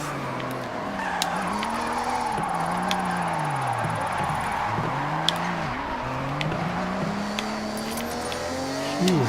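BMW in Forza Horizon racing through Tokyo, engine revving up and down through repeated gear shifts with tire noise, loud and steady throughout.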